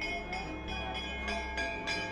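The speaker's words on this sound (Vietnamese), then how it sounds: "Thi thoảng người dân lại đi qua và gõ vào những cái chuông này. Rung nhẹ một tí thôi là đã kêu rồi." Temple bells in Kathmandu, Nepal, struck lightly by passers-by, ring out in a series of bright metallic tones roughly every third of a second, each decaying into a sustained hum over a low background murmur.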